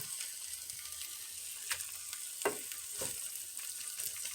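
Steak frying in a pan gives a steady, bright sizzle throughout, with a few soft scrapes and taps of utensils rising briefly above the hiss.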